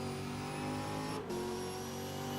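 GT race cars lapping the Valencia circuit, a steady, dense whine of high-revving engines at close range, with a brief dip midway as the sound shifts.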